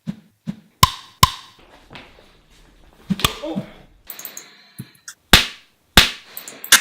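A boom pole swings quickly past a camera, giving a series of sharp whooshing swishes and slaps spaced through the clip, close and loud against near silence.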